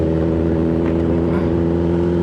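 A Kawasaki ZX10R superbike engine while riding holds a loud, constant, deep drone that fills the whole stretch without a break.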